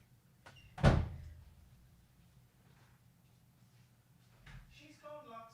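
A door is shut firmly on a pet dog, giving one sharp close near at hand, followed by quiet room tone and a few soft bumps, with a faint voice at the end.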